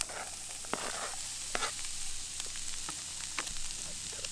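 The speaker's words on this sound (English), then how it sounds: "that chorizo left the right amount of oil in there to cook these" Food fries in leftover chorizo oil, made on a camping trip while working on a 1970 VW bus, with a steady close sizzle and scattered crackling pops, no talking.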